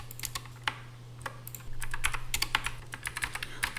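Computer keyboard clicks and key presses, with sharp irregular taps close by and no talking, quickening into a denser burst of typing midway.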